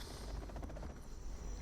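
Helicopters being shot down by quad cannons in the C&C Zero Hour video game make a steady, dense rotor drone with a faint rapid pulsing, continuous and moderately loud throughout the short stretch.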